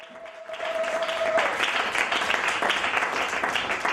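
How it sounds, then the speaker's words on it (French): A church congregation bursts into sustained applause and cheering that fills the room and holds steady for several seconds, following a brief voice or tone at the start. "Est-ce que tu peux acclamer bien pour les Seigneurs?"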